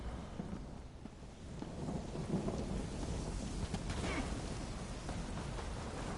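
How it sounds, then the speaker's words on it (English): Rolling thunder from a lightning spell in Elder Scrolls Online, a steady dense rumble with rain-like hiss throughout, building slightly midway, no speech. "Have some lightning!"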